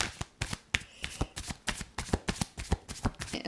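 Tarot cards are shuffled by hand in a quick, steady run of crisp riffling slaps, close and fairly loud, with no voices.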